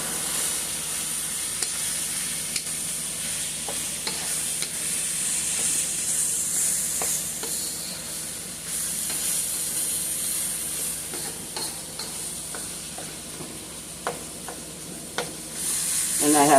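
Baked spaghetti ingredients with chopped Italian parsley sizzle steadily in a pan over high heat, a continuous close frying hiss with scattered small pops and occasional utensil taps, no talking.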